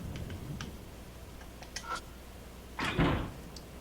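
A locked door in a video game being tried, faint rattles and small clicks followed by a short, louder thud as the handle catches, quiet and close, no voices.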